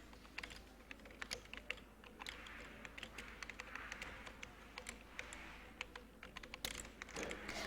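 Quiet, quick keystrokes on a computer keyboard as a search is typed into Chrome, a steady run of light clicks over low room hiss, with no speech.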